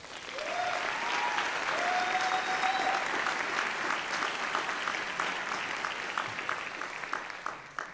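A large audience at a doctoral hooding ceremony claps in sustained, dense applause for several seconds, fading slightly toward the end, with a brief voice heard early on.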